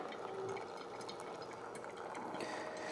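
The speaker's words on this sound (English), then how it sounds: "I'm gonna do a little bit of a center pour." An xBloom Studio coffee brewer runs a center water pour, giving a steady, close mechanical hum and trickling stream of water with faint clicking from its mechanism, continuous throughout.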